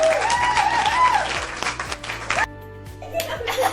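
A small group claps and laughs together in a cheerful home setting, with brief voices mixed in before the clapping breaks off into a quieter pause.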